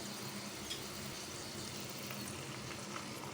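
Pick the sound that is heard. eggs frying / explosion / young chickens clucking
eggs frying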